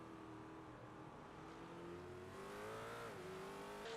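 Race car engines drone in iRacing at WeatherTech Raceway Laguna Seca, a steady close whine with pitch rising and dipping as the cars accelerate and shift, with other cars buzzing underneath.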